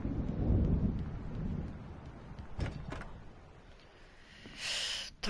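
In the video game Alan Wake, a thunderstorm rolls with a deep rumble of thunder over steady rain, followed by sharper cracks and a hissing gust near the end.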